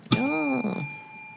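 A single bell dings with a sharp strike and then rings out in a steady, fading tone for about a second, with a brief voiced sound briefly overlapping the ring.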